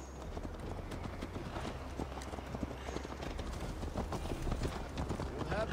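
Horse hooves clop in a steady, brisk rhythm while riding in Assassin's Creed Valhalla, continuous and moderately loud with a low rumble beneath.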